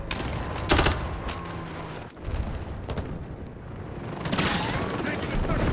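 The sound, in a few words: gunfire in video game Modern Warfare multiplayer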